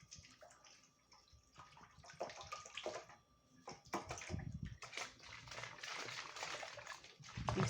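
A bottle of liquid sourdough starter shaken by hand, giving soft irregular sloshing and gurgling bursts that build louder toward the end, fairly close and with no talking.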